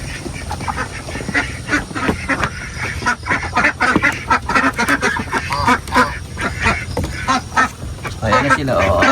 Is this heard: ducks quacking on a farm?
yes